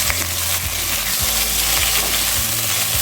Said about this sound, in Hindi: आलू की कतली को हल्का सेक लेंगे